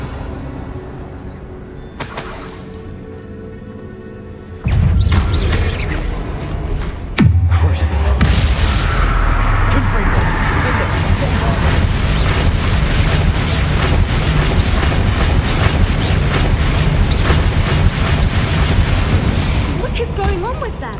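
Bombarda blasting spell in the video game Hogwarts Legacy: a sudden deep boom breaks in and a second thumping blast follows, leaving a loud sustained rumble of debris and game noise.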